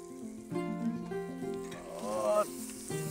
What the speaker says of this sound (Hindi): और भून देता हूं।